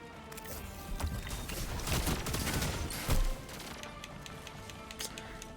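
Rapid bursts of gunfire crackle back and forth in a Destiny 2 Iron Banner match, with sharp, closely spaced shots and a louder cluster near the middle, and no voices.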